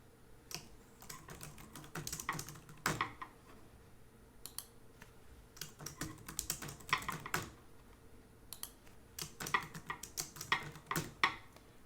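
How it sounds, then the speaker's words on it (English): Rapid, uneven clatter of keys on a computer keyboard, typed in bursts with short pauses, close and fairly quiet with no talking. "that's where you're going to start typing"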